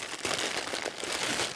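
Thin plastic bag wrapping around a Lush soap crinkles continuously for a moment, a close, dense crackle with no talking.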